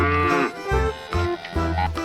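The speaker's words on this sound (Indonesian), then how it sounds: "ini ada sapi perah warna putih" A white dairy cow with black patches moos several times in close, loud, deep bellowing calls with short breaks between them.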